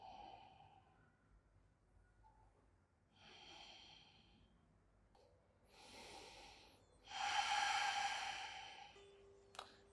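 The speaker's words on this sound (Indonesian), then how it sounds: "Ambil nafas dari hidung. Buang nafas dari hidung." Slow nasal breaths in and out during a quiet yoga class: soft airy inhales and exhales come in separate waves, with the last and loudest breath louder and fuller than the earlier ones, all close by with no one talking.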